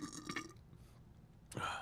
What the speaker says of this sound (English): To get some burps like that.